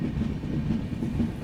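The Uttar Sampark Kranti express rolls slowly near Rajpura Junction, a low steady rumble of wheels and carriages with faint rhythmic clatter, heard from inside the train with no voices.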